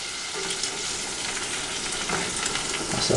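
Egg fried inside a slice of bread with butter in a pan, sizzling and crackling steadily and up close, a dense continuous hiss that swells slightly toward the end.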